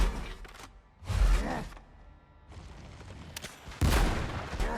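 Gunfire from a player's weapon during the first boss fight in the video game Windrose, with a few loud broadband bursts spaced apart, the heaviest near the start and end, over a steady game ambience.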